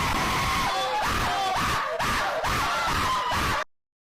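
A voice imitates an exaggerated, warbling scream of a zesty person, a loud wavering wail that rises and falls like a siren for about three and a half seconds before cutting off.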